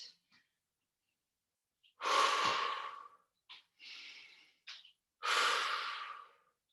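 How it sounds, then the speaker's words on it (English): Deep breaths during an exercise class: a few long, loud breaths in and out, close by and spaced a couple of seconds apart, with short sniffs and huffs in between and no talking. "Breathing in and out."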